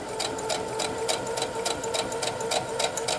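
A sewing machine stitches quilt pieces for half square triangles, a close, steady mechanical whir with a rapid, even rhythmic clatter running the whole time, with no talking.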